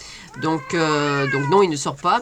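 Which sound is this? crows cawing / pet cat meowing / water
pet cat meowing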